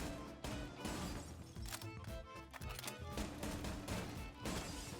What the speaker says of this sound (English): you want to smash the glass